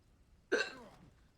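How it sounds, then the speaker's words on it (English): One sharp, close hiccup comes from a person, a sudden voiced gulp that fades quickly against a quiet background. "And I got the hiccups."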